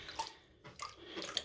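Small water waves slosh and lap in a shallow erosion model tray of sand and rocks, soft intermittent splashes close by with no talk.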